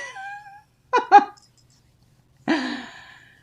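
A cat meows several times indoors: a drawn-out meow, two short chirping mews, then a longer plaintive cry, loud and close against silence.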